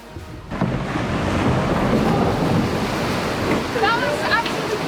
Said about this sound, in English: Navigating the kayak through echoing, crashing waves in the dark